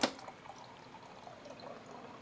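Water is poured for a drink, a soft close trickle and splash running quietly for a couple of seconds after a brief clink at the start.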